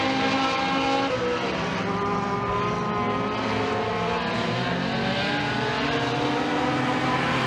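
Race cars roaring around the track during a heat race at Raceway 7, a dense, continuous engine drone from several cars at once, loud and steady throughout.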